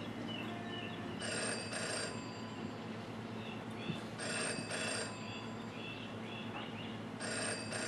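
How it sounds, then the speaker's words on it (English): A telephone booth rings in the Jenny LeClue video game, three bursts of an electronic bell repeating at steady intervals over a low ambient game background, with no talking. "I don't think telephone booths are supposed to be ringing"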